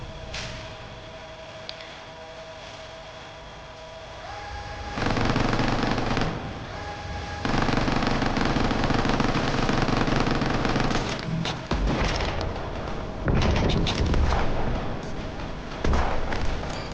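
Hanging bombs go off among zombies in Quarantine Zone, heavy explosive bursts and rattling blasts arriving in loud clusters over a rumbling game soundtrack, with quieter stretches between.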